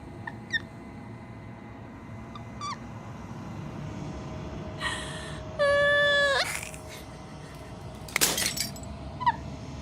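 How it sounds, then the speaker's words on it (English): Glass shatters in the video game Slay the Princess, a sharp breaking crash rising out of a layered ambient backdrop with scattered tinkling fragments, faint whimper-like tones and a wavering tonal cry nearby. "As the final fragment of glass shatters"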